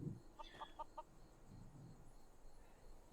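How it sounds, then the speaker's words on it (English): A chicken in Skyrim gives a few quick, faint clucks in a short repeated burst, set against a low, steady game ambience with no talking. "So, now I have a chicken."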